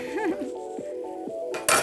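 Pasta with shrimp, asparagus and pistachio is stirred in a metal pot, giving a few soft scrapes and clinks of a utensil against the pan, ending in a louder clatter.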